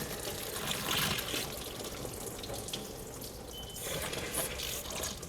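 Water from a garden hose rushes steadily through a car heater core being flushed, a continuous close gushing wash with slight surges and no talk.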